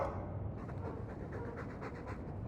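A Mabari war dog in the fantasy game Dragon Age II pants in quick, steady, rhythmic breaths, close and fairly soft, alone without talk.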